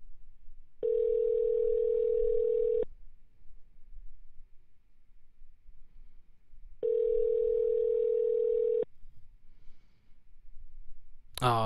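A telephone call rings out with two long, steady electronic ring tones separated by a quiet gap, heard close and alone with faint breathing in between.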